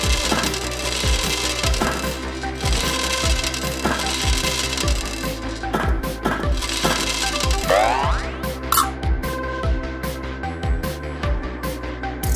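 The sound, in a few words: spheres falling in a chain reaction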